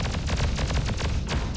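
A rapid burst of missile fire in a video game plays as a loud, dense string of sharp blasts and crackling impacts, with a brief dip before more shots.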